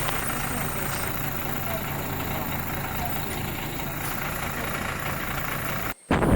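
A fire force vehicle engine idles close by at Kottarathikkadavu during a search, giving a continuous rumbling drone that stays level for several seconds before a brief dropout near the end.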